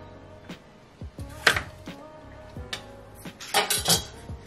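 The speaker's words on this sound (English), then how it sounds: "I'm not cutting them too small because I don't want them to like overcook" A knife chops vegetables on a board for pot roast chicken, cut into larger pieces, giving a string of irregular knocks and clinks with dish rattles, close and moderately loud, with no talking.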